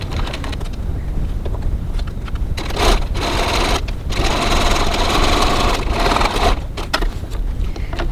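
Sewing machine stitching a wallet side welt 3mm from the edge, a close, loud, fast mechanical rattle running steadily with a few short pauses and restarts.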